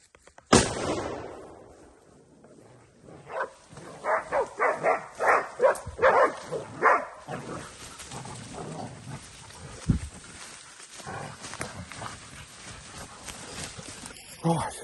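Several hunting dogs bark hard in a rapid run of loud yelps while bailing two big wild sows in thick cover, then break into scattered barks and whimpers, with people talking and shouting among them.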